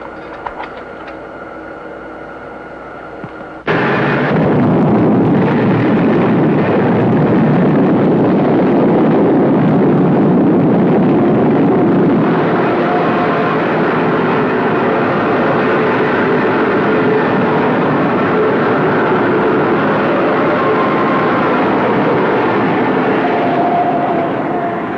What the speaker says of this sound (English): Rocky, we're blasting off.